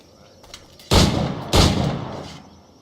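Two loud, close firearm shots in the video game Assassin's Creed 4 Black Flag, each a sharp blast with a lingering decaying tail, following a few faint clicks.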